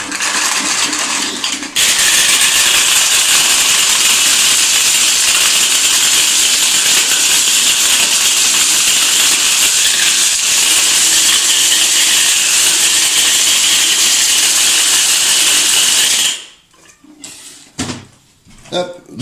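A small kitchen blender grinds acorns for carp bait in one loud, continuous whir that runs for about fifteen seconds and then cuts off, followed by brief clattering.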